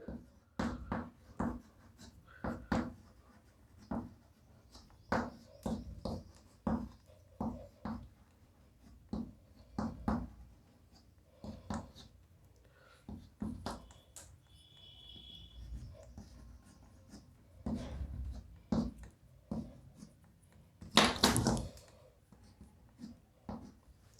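Marker or chalk strokes on a board during a carbohydrate chemistry lesson: a steady run of short scratchy taps and strokes up close, with a brief squeak near the end.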